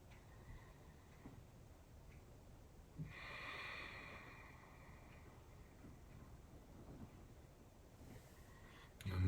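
One slow, airy exhale from someone lying on their back in a relaxed twist stretch, faint and close, surrounded by long near-silent stretches with a slight shuffle at the end.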